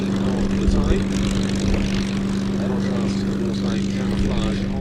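A Miles Magister propeller training aircraft in pre-war all-yellow scheme flies at the Duxford Battle of Britain airshow, its engine drone steady and fairly loud throughout, with crowd and commentary noise mixed underneath.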